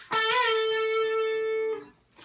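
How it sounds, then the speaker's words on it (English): A single electric guitar note bent up on the 17th fret of the second string, from a rock lick, rises slightly in pitch and sustains loud and clear for about a second and a half before being cut off, with no talking. "bending the 17th fret of the 2nd string"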